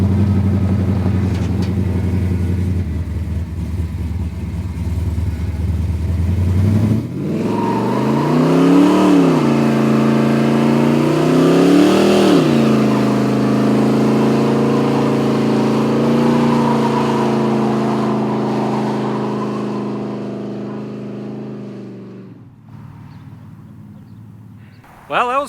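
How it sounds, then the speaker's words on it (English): A 1972 K5 Blazer's engine idles, then revs hard and holds loud and sustained through a smoky burnout on old Goodyear tires, rising and falling in pitch for about fifteen seconds before cutting back; people's voices mix in underneath. "He's been putting off doing its first big smoky burnout so we could video it"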